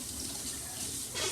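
Water pours steadily into a large pan for rendering beeswax, a continuous close rushing splash that swells a little louder near the end.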